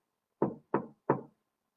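Three quick knocks on wood, evenly spaced and close, each a short dull thud in otherwise near silence.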